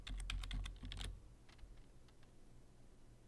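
Quick bursts of keystrokes on a computer keyboard as a search keyword is typed, a dense run of clicks for about a second, then a few sparse taps fading into quiet room hiss.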